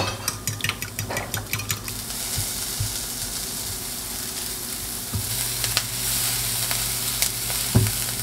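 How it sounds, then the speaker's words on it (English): Peppers sizzle steadily in a hot skillet, a continuous close frying hiss with a few scraping stirs and clinks of a utensil near the start. "the peppers are looking pretty good. I can tell the skillet's getting really hot"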